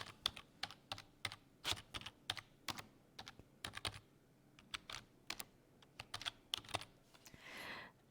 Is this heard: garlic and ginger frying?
no